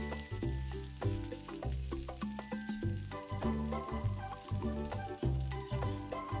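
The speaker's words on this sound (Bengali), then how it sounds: "কড়াইতে সামান্য সর্ষের তেল দিয়ে ছোট ছোট টুকরো করে কেটে রাখা ফুলকপিগুলো দিয়ে ভেজে নেব।" Small cauliflower pieces fry in a little mustard oil in a wok, giving a steady, close sizzle with repeated pulsing bursts and no talking.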